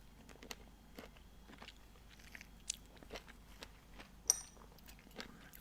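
Quiet, close crunching bites and chewing of crunchy homegrown mulberries, with sharp irregular crackles between softer mastication sounds.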